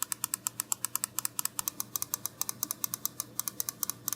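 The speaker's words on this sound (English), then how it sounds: "this is one of the only controllers that does clicky ABXY and D-pad buttons properly" ABXY and D-pad buttons on a SCUF Envision Pro controller are pressed in rapid succession, producing a steady run of sharp, close plastic clicks with no voices.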